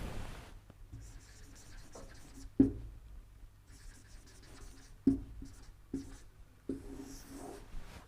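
Chalk or a pen writes a sentence on a board, with scratchy strokes and a few sharp taps as words begin, steady and close with pauses between bursts.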